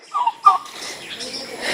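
A six-month-old pet turkey kept among ducks gobbles in two short bursts, close by, then leaves a thin, noisy tail of quieter background sound.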